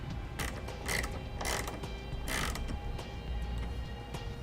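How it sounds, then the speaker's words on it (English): A 7/32 Allen wrench tightens the bolts of a Thule TracRac TracONE ladder rack on a 2008 Ford F-250, producing a few separate metallic ratcheting creaks and clicks over a steady low background hum. "you're going to come back and tighten them down with a 7/32 Allen"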